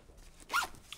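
A small zipper pocket on the top of a camera bag is opened in a single quick, close rasping pull, in an otherwise quiet room.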